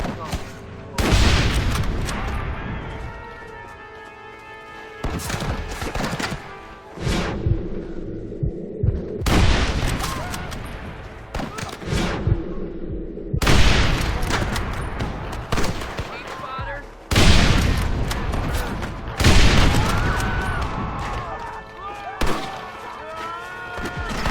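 Gatling gun fire in Red Dead Redemption, coming in loud, dense bursts broken by short pauses, with heavy booming impacts and a low throbbing hum underneath.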